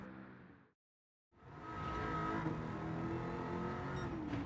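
A 2015 Mercedes-AMG C 63 S engine in Gran Turismo 7 pulls hard on track, cutting out briefly and then returning as a loud, sustained high-revving drone.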